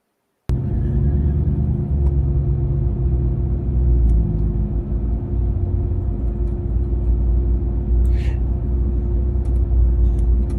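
A truck engine drones steadily at close range with a low, continuous rumble that holds for the whole stretch, with no talking over it.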